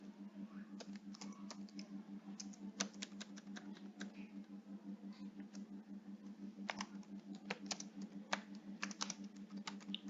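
An address is typed on a computer keyboard in quick, uneven bursts of soft clicks with short pauses between, close and faint over a constant low hum.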